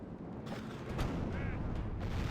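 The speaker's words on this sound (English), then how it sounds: "Catapults!" Catapults fire in a Medieval 2 Total War siege battle: several creaking mechanical releases and thumps, spaced apart, over a low rumbling battlefield din.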